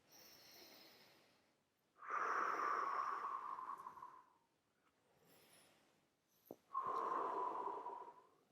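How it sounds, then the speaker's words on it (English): Slow, audible breaths drawn through the nose during a yoga lunge pose, two long strong exhales each lasting about two seconds, separated by softer quiet inhales, close and alone with no talking. "Breathing here."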